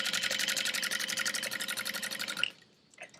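A sewing machine top-stitching clear vinyl runs in a fast, even mechanical chatter for over two seconds, then stops, leaving faint handling noise.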